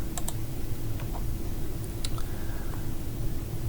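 A few sharp computer mouse clicks, close and isolated, standing out against a loud, steady noisy background hum with no speech.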